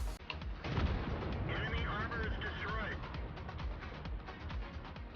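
Tank cannon shots from a World War II tank video game with a Churchill tank in the battle, heavy booming blasts close up over constant rumbling engine and battle noise, with a voice talking throughout.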